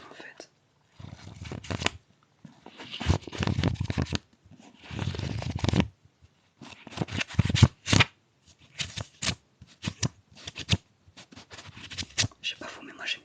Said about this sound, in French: j'aime bien le bruit des pages